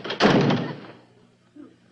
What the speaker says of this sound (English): Suddenly, there's a knock on the door.